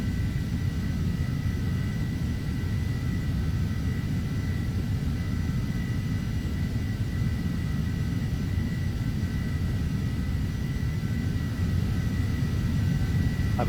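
Steady aircraft engine drone at raised throttle in Flight Simulator X Steam Edition, a continuous low rumble with a faint tonal hum held evenly throughout, with no voices.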